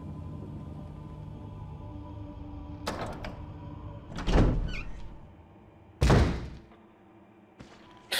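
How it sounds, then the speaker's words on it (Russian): A door opening in the video game Resident Evil HD Remaster: several heavy thuds and creaking clunks arrive in separate bursts over a low background hum, with no one speaking. "Вы открыли дверь."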